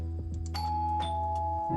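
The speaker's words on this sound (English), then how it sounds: "that was your new apartment's doorbell." An apartment doorbell rings out in the visual novel game The Bite: Revenant, a series of bright chimes and ding-dong tones repeating insistently over a low steady drone, with no voices.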